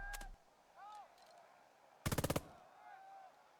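Gunfire in the video game Burden of Command: a fast burst of about six machine-gun shots, with a brief shot earlier, among whistling and eerie tones, moderately loud and without talking.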